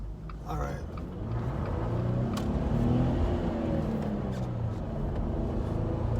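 A Jeep Wrangler JL accelerating hard with wheel spin, its engine note climbing into a loud, steady rumbling roar that holds close and continuous throughout.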